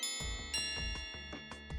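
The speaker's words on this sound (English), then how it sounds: "The bell rings," A school bell rings for lunch period as a short run of quick chiming strikes with ringing overtones, steady and fairly clear.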